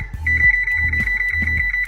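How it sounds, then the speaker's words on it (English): A kitchen timer being set for thirty minutes gives a run of about three evenly spaced electronic beeps over a steady high tone, close and fairly loud. "I'm gonna set this timer for another 30 minutes"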